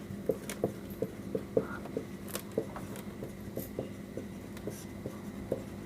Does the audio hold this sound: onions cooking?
no